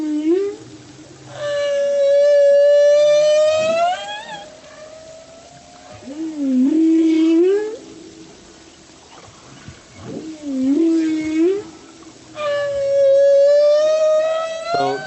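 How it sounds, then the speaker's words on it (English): Humpback whale song, a series of long rising and falling moans and cries with rich harmonic overtones, separated by lower groans and brief pauses, sounding clear and fairly loud with no talking. "So this we're listening is a humpback whale song"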